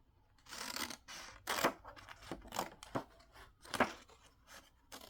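Scissors snip through tissue paper for a handmade journal cover, a series of crisp, papery cuts arriving in uneven bursts, close and fairly quiet, with soft rustling between snips and no talk.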